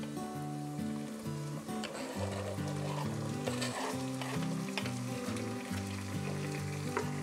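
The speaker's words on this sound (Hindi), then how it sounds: "अब हम इसमें टमाटर डालेंगे, ये भी हमने चॉप किए हुए हैं" Chopped tomatoes hit a hot pan of cooking garlic for a flower-bud sabzi, giving a steady, close frying sizzle with occasional stirring scrapes, while a steady musical tone runs underneath.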